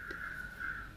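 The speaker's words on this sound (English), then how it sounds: "Lots of crows. I've seen lots of crows today." Crows caw outdoors among green trees, one or two raspy calls at moderate distance, faint and alone against quiet background.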